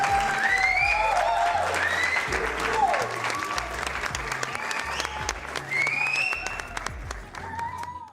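A round of applause during a painting session, steady dense clapping filling the whole stretch, with a melodic tone weaving over it and no speech.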